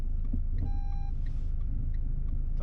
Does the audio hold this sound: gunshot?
no